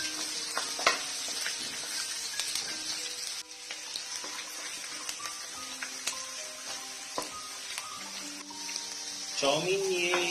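Split green chilies sizzle steadily in a hot wok for street-style veg chowmein, with scraping stir strokes and occasional clinks over the continuous frying hiss, close and fairly loud.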